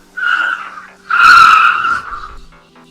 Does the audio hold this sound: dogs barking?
no